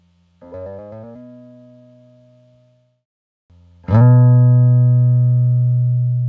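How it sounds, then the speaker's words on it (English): An acoustic guitar note with a finger sliding along the fret, first a softer slide with quick wavering pitch steps that fades out, then a sharper, louder slide into a strong ringing note that sustains to the end. "Here's a guitar, and I'm going to slide across the fret in two different ways."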